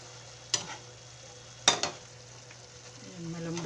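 Pechay and cabbage are sautéed with chicken liver and pork in a pan, giving a soft steady sizzle with two sharp clinks of a utensil against the pan and quiet stirring toward the end.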